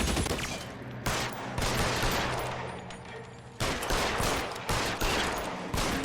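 Gunfire in the crime video game L.A. Noire, dense bursts of loud rapid shots in several volleys separated by brief lulls, close and dominant with no talk.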